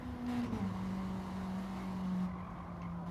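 A Japanese hot hatch's engine revving in a racing video game, a steady sustained whine with a pitch shift early on and faint tire noise, fairly quiet and without talk.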